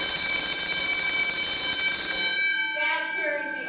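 A volunteer fireman's fire alarm bell rings loudly and steadily in a continuous metallic clang, then cuts off as a voice starts speaking.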